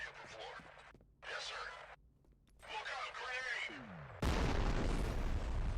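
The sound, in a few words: shotgun fire in the video game F.E.A.R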